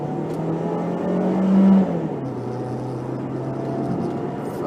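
A car accelerating onto the freeway from an on-ramp, engine droning steadily with a rising swell as it pulls out, then settling into a constant rumble.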